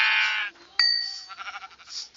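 Sheep in Minecraft bleating, a short wavering bleat followed by a bright chime-like tone and a second trembling, pulsing bleat, close and clear with no talk.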